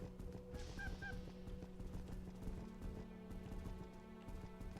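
Giant chicken-like mounts in the online game RaiderZ give a couple of short honks, faint and brief within steady game ambience and background music.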